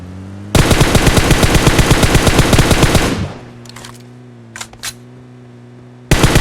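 Rapid automatic gunfire in PUBG Mobile: a fast, steady burst of loud shots lasting about two and a half seconds, then a low game hum with a few faint clicks and a renewed blast at the end.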